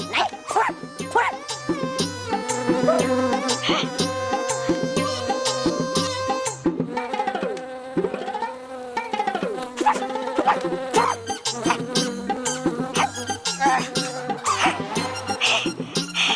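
A housefly buzzes in a steady, wavering drone that runs throughout, with bouncy background music layered over it.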